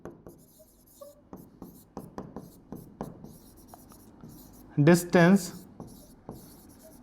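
Pen or marker writing out the distance formula by hand, a series of short scratchy strokes spaced through the clip, close and fairly faint, with a voice speaking briefly near the end.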